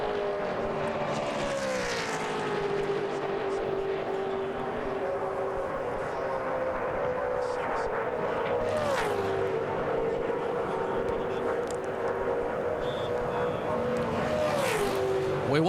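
A Toyota NASCAR Busch Series car qualifying at Daytona International Speedway roars past in a long, loud engine drone whose pitch drops as it goes by, followed by another car passing, with an announcer talking over the noise.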